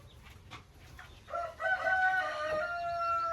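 Chickens in a brick coop in a Ukrainian village. Scattered clucks and soft calls build into a drawn-out crowing call near the end. The sound is moderately close and fairly quiet, with no talking.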